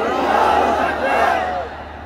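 A large crowd at an outdoor Islamic religious gathering in Mymensingh roars the takbir in unison, a loud sustained swell of many voices that rises, peaks and then fades away.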